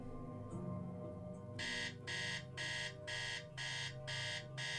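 Electronic alarm in the 2002 Nancy Drew video game Secret of the Scarlet Hand, a loud, bright buzzing tone pulsing in regular bursts about once every half second over a quiet low hum.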